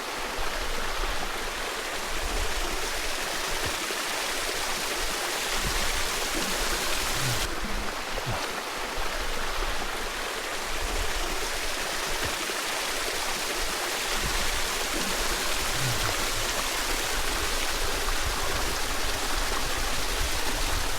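Steady rushing water from the Twin Falls waterfall and stream near Aorere Goldfields Track, a constant broadband roar with no pauses and no voices.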